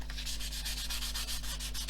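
Steady wet sanding rub on the painted grainy plastic of an Airfix model kit, close and continuous with a rapid back-and-forth scratchy rhythm, no voices.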